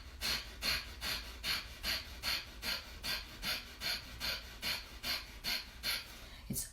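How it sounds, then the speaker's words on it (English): Rhythmic pumping breathing exercise, about a dozen quick, evenly spaced breath pulses, each a short airy puff close to the microphone, repeated at a steady pace with no talking. "the breath looks a little something like this"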